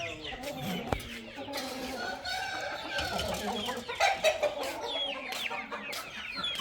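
Chickens and chicks cluck and chirp together nearby, a busy overlapping mix of hen clucks, a rooster's call and high chick peeps, with a person talking faintly in the background.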